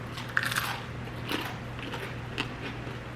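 Close crunch of a bite into crusty fresh-baked homemade bread, a few sharp crackling bursts over quiet chewing, with no talking.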